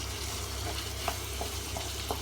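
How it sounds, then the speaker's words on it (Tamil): Chopped ripe tomatoes sauté in a pan for a home tomato rice, giving a steady close sizzle and fry with a few faint stirring scrapes on top. "நல்லா தக்காளி பழத்தை ஆட் பண்ணி கூட நல்லா வதக்க வைக்கிறேன் நான் அதை"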